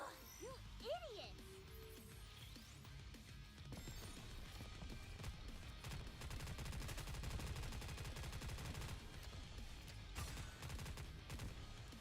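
Rapid gunfire rattles in dense bursts through a shooting game, with faint voices underneath and a few whistling tones at the start before the shooting builds and holds steady.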